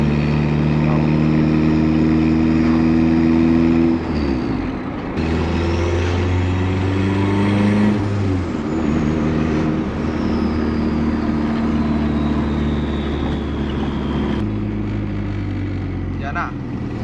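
Car engine and exhaust while driving, a loud, steady drone with shifting tones as revs rise and fall, close inside the vehicle, with a voice speaking over it.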